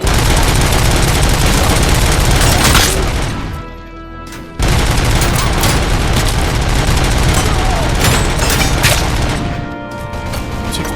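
Machine gun fire in the Robocop Rogue City video game, loud and close, with long continuous automatic bursts, a brief lull around midway, then firing resumes with heavy booms mixed in.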